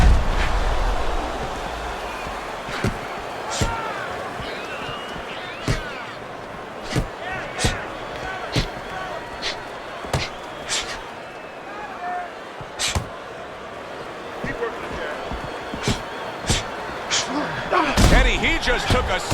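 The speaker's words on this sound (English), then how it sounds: "he just took a serious series of punches" Punches land in a heavyweight title fight: sharp, isolated thuds spaced unevenly over a steady crowd roar, with a burst of several quick impacts near the end, and voices underneath.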